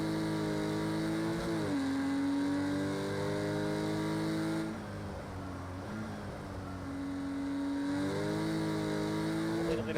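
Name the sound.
Porsche race car engine in video game Project CARS 2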